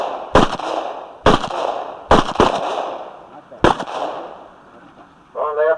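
Four sharp gunshots ring out in an irregular called sequence, each a loud close crack with a short decaying tail, followed at the end by a brief voice.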